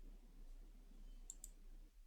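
Two quick, faint computer mouse clicks sound close together while a link is clicked on a web page, set against a quiet room hum.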